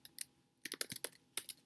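Someone types on a computer keyboard in quick, uneven bursts of sharp clicks, close and clear in a quiet room, with a pause between the bursts.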